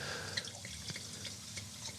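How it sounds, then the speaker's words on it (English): Wine trickles and drips into a glass in a short, quiet pour, with small splashy droplets rising over a soft background murmur. "I'm going to pour some of this wine"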